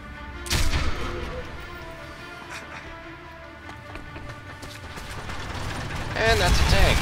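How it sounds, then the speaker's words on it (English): A tank rumbles and clanks through a scene in the video game Sniper Elite V2, with mechanical rattling, heavy low-end grinding and sharp bangs near the start and end. Voices talk over it. "that's a tank."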